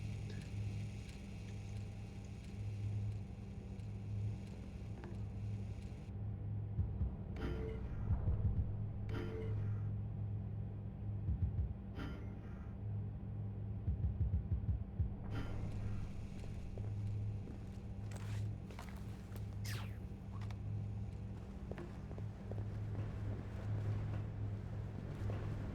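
Steady low engine rumble aboard a ship in the stealth game Splinter Cell: Double Agent, a continuous droning hum with a few brief clanks and footsteps layered over it, no voices.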